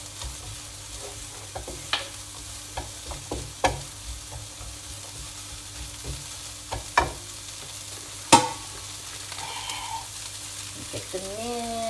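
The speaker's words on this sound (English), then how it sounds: "So I think the onions are sort of like browning now" Onions and minced meat fry in oil in a pan, a steady low sizzle broken by repeated scraping stirs and clacks of a utensil, with one sharp knock near the end.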